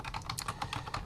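Quick bursts of keystrokes on a computer keyboard, close and crisp, with uneven rhythm over a low background hum.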